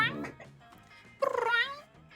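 A person imitates a cat's meow, giving two drawn-out, nasal mewing calls close to the mic, the second louder and more strained, with a short breathy sound before them.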